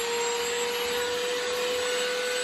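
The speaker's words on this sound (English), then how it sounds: "First, go ahead and vacuum up all the junk that you have in your vehicle." A vacuum cleaner runs steadily while vacuuming a car interior, a loud constant whining roar with a high tonal hum and no variation throughout, alone without speech.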